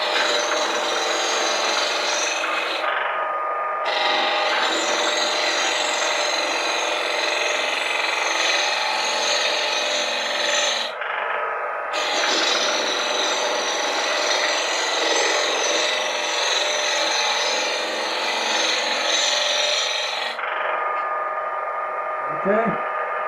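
A slicing blade scrapes across box elder wood in long, continuous strokes, a loud, broadband rasping drawn out over many seconds with brief pauses between passes.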